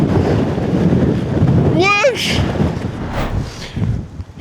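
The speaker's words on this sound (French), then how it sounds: "Mais là le vent il est abusé. 75 km/h." Strong wind of about 75 km/h gusts across the microphone on an Icelandic coast, a steady roaring buffet throughout while people talk nearby.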